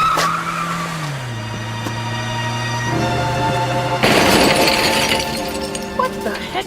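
Tires screech on a taxi cab in a radio drama as it slides, then a crash of shattering glass and crunching metal follows, loud and close, with clattering debris after the impact.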